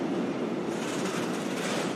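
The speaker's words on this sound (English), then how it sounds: "Every one of those trains you just heard going over the Alps carries close to 500 tons of pasta" Freight train carrying Barilla pasta over the Alps from Parma toward Ulm, heard as a steady, continuous rolling rumble of wheels on track, moderately quiet and even throughout, with no voices.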